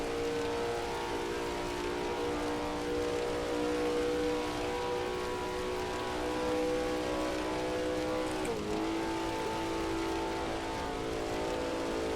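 A 1939 Grand Prix racing car in Assetto Corsa, racing at Tripoli, holds a steady, loud engine drone; near the end the pitch briefly dips and resettles as the car shifts up a gear.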